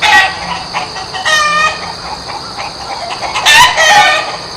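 Toy chicken clucking in a series of short, bright squawking bursts, with a louder cluster near the end and no talking.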